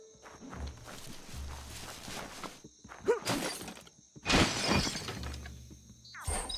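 Wooden box smashed apart in the video game Biomutant, several sharp breaking crashes with splintering debris spaced across the moment, interleaved with game footsteps and ambient background.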